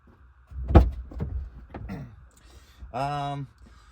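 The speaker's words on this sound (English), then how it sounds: "I'm gonna go open that door" A door on a 2009 Ford Escape Hybrid opens with a sharp close clunk followed by a few lighter latch and hinge knocks, then a brief tonal hum near the end.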